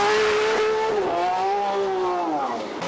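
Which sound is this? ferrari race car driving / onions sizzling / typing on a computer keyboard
ferrari race car driving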